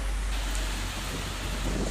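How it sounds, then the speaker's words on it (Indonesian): Heavy rain pours in a dense, continuous hiss while strong wind adds a deep rumble beneath it. The storm is steady and loud throughout, with no distinct breaks, during a downpour in Takengon. "Hujan deras disertai angin kencang juga merusak kanopi masjid di Simpang 4 Bebesen"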